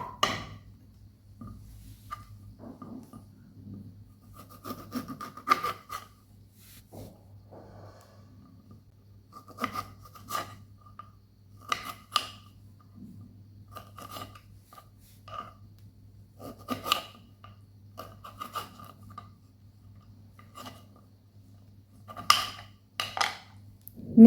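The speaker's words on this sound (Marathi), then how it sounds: "आता आपण निंबूला कट करून घेऊया" A knife cuts a lemon into small pieces for pickle on a kitchen board, giving sparse, faint taps and scrapes with uneven pauses over a low steady hum.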